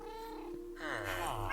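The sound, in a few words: cat meowing in the video game Minecraft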